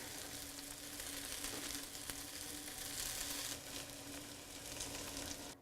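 Eggs hit a hot pan with tomato for a vegetable frittata, giving a steady, dense sizzle and frying crackle that holds close and even throughout with no talking.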